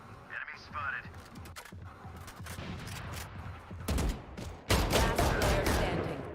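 Bursts of video game gunfire ring out during a last-player-standing shooter match, with rapid overlapping shots and a sharp, louder volley near the end, mixed with game effects and a voice.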